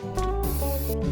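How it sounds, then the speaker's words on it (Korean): Spray adhesive hisses out of a can in a single steady burst of about half a second, coating a small 3D-pen figure dusted with iron powder, while music plays underneath. "2차 스프레이 접착제"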